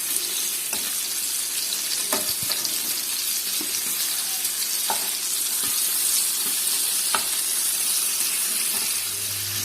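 Chicken pieces for a mushroom chicken dish frying in oil over a low flame: a continuous close sizzle with scattered clicks and scrapes as the pieces are turned, and a brief low thump at the end.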